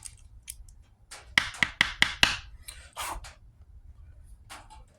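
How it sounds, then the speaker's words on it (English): Tiny flathead screwdriver scraping leftover residue from a .38 Special bullet casing, a cluster of quick sharp metallic scratches and taps up close, followed by a few softer scrapes. "Just taking a tiny little flathead screwdriver. Just kind of scraping out all that"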